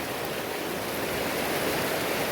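A river stream rushes steadily along a hiking trail, a dense broadband wash of flowing water that stays loud and even throughout with no voices over it.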